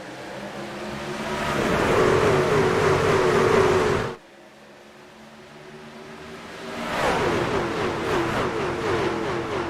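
Racing trucks of the Apex Energy Truck Series roar as they accelerate after the green flag on a Wednesday night at Charlotte. A loud, sustained engine drone builds, cuts off sharply near the midpoint, then swells again as the pack passes.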